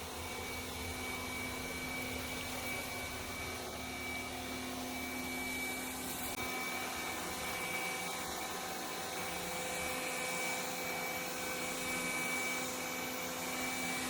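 A Yeedi Mop Station Pro robot vacuum runs at boosted suction, giving a steady airy whine with a constant motor hum that holds level throughout, close and unbroken.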